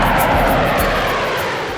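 Aircraft on the runway at an Afghan airfield shared by domestic planes, Chinooks and Hercules, give a loud, close, steady engine roar with a broad rushing hiss, fading slightly toward the end.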